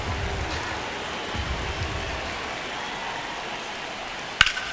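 Heavy rain pours steadily onto a baseball field in a simulated Athletics versus Milwaukee Brewers game, a dense continuous hiss with no breaks, ending with a short sharp knock near the end.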